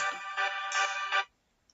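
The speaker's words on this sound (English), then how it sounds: "that was my alarm just telling me to pause this recording" A phone alarm rings as a bright electronic ringtone melody, loud and close, playing for just over a second before cutting off into silence.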